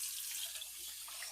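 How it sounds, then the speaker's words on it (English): Tap water runs steadily into a sink during hand washing in a home kitchen, a constant close hiss with no talk over it. "Now I'll wash my hands again."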